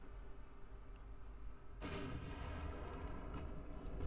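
Naval gunfire in Ultimate Admiral: Dreadnoughts, with warships of the 1904 Russia–Japan war firing guns of several calibers. Quiet low rumble first, then a loud, sustained roar of blasts with sharp crackling bursts layered on top.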